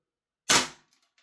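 A single sharp, close shot from a Secutor Centurion II airsoft gas blowback rifle, an MWS clone, cracks out of silence and decays quickly, followed by a few faint ticks.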